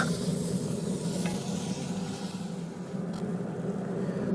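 Garlic sizzling in a pan on a Pit Boss pellet grill, a steady dense frying hiss with faint crackles throughout, close and unbroken.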